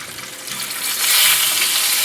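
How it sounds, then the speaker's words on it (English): A stick of frozen butter hitting a hot pan with thick-cut steaks, a steady close sizzle and crackling fry that swells louder partway through. "I'm just gonna throw a quick stick of butter in here"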